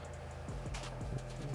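Quick, light tapping on a computer keyboard, a short burst of keystrokes up close, faint and quiet, with no voices over it.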